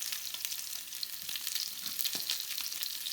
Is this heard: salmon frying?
yes